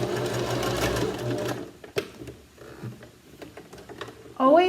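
A domestic sewing machine stitches fabric in a steady rapid whir, pausing briefly, then resuming more lightly, with a sharp squeaky mechanical tone near the end; a voice speaks softly beneath at times.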